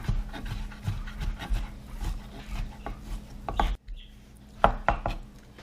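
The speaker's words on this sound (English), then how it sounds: "So I'm just going to go ahead and chop this up real good." Slow-cooked javelina meat is chopped finely on a board, giving a run of irregular close thuds and scraping knife strokes, with a brief pause before a few more sharp chops.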